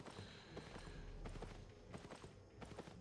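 Horse hooves clopping in Albion Online, a steady run of soft, rapid hoofbeats over continuous ambient game sound, fairly close and moderately loud.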